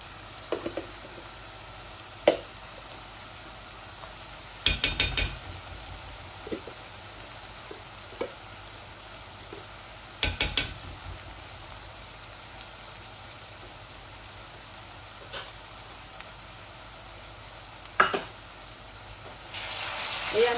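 Ginger and garlic paste sizzling in a pan for a liver and meat heart curry, a steady soft fry broken by a few sharp bursts as the paste is stirred or added.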